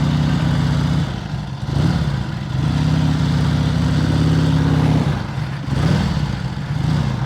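A Harley-Davidson Ironhead XLCR motorcycle engine while riding: a steady, loud, close rumble with rising and falling revs and a brief dip as the throttle shifts, with wind noise on top.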